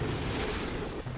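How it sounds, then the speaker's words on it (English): A rocket blows up in Kerbal Space Program after its heat shield overheats, a short muffled low rumbling burst that holds for about a second and then cuts off. "Oh, we exploded."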